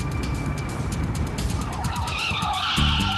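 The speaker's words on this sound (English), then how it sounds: "this car was reported spinning out of control with no one behind the wheel" A driverless car skids and spins out of control, its tires screeching in a loud, wavering squeal over the rumble of the engine, growing harsher toward the end.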